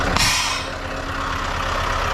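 A red air line being connected on a truck trailer: a sharp burst of hissing air at the start that fades into a steady, rumbling truck engine idling nearby.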